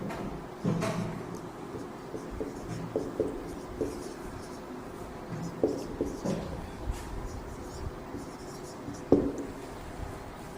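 Pen writing an address by hand on paper, with quiet scratching strokes and occasional taps and rustles close by, no talking.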